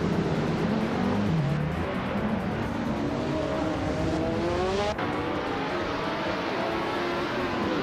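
Racing game engines, LMP 900 class prototypes such as a 2009 Lola Aston Martin at Buddh International Circuit, drone and rise in pitch as cars rev and pass, with a continuous loud mix of engine whine.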